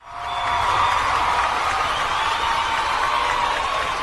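Steady, dense applause from a crowd, rising quickly and holding at an even level throughout with no voices on top.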